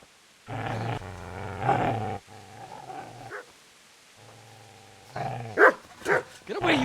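Dog growling and barking in the medieval role-playing game Kingdom Come Deliverance, several loud, close bursts of snarling and gruff barks separated by short pauses, ending with higher yelps and whines.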